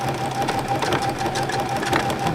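Sewing machine running fast and continuously during free-motion thread painting on a landscape piece, a loud, even mechanical whir with rapid needle chatter, close up and alone.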